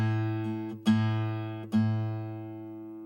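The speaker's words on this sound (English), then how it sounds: "here's my A string, or my 5th string, which is this one right here." A guitar's A (fifth) string plucked three times, each note ringing with a steady harmonic pitch and decaying slowly before the next pluck, close and alone with no voices.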